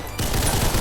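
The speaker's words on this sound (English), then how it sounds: "It's a basic M4 and 16 platform assault rifle." An M4 assault rifle in the video game Ragdoll Universe firing a fast automatic burst, a loud dense rattle of rapid shots that starts abruptly and carries on alone.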